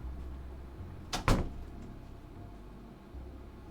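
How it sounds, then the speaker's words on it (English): A door swings shut indoors with one short, solid knock and a brief rattle, standing out from a quiet room. "I obediently follow her inside, closing the door behind me"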